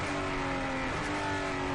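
Onboard a race car on the Rio de Janeiro track at Galeão airport, the engine roars steadily and loudly at high revs, a dense continuous drone with shifting harmonics heard from the driver's helmet position.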